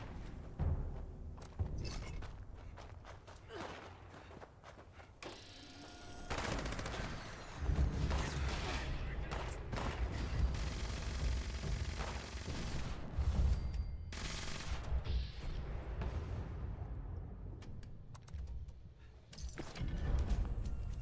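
Rapid bursts of gunfire from a drum-magazine gun in Fallout 76, sharp repeated shots in clustered volleys with brief pauses, loud and dense throughout without talk.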